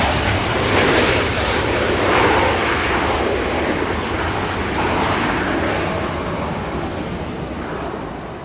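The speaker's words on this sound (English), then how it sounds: "QF93 flying in from Melbourne, a Dreamliner arriving south" A Qantas Boeing 787 Dreamliner arriving from Melbourne lands on a southern runway at Los Angeles airport, a broad, steady jet roar with wind that eases slightly toward the end.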